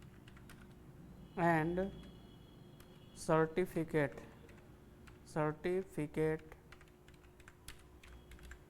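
Tapping keys on a computer keyboard while entering text into a fee receipt layout in PageMaker, light clicks running under someone speaking Hindi in several short phrases.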